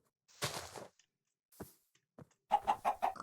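Chicken clucks in Minecraft: several short, fairly close bursts, with a quick run of rhythmic clucks at the end.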